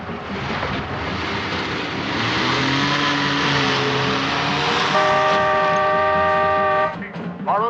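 A borrowed car pulls away with its engine revving hard, the pitch climbing steadily as it accelerates. Near the end, brief sustained horn-like tones sound before the engine note shifts.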